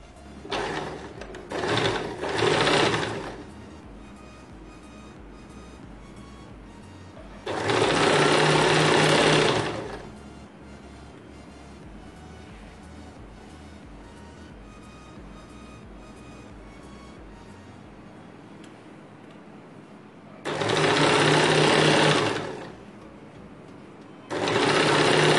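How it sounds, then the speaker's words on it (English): A sewing machine stitches the seam of a designer umbrella kurti in several loud, whirring bursts of a few seconds each, separated by quieter pauses with a low background hum. "Start stitching, giving equal amount of seaming margin all over."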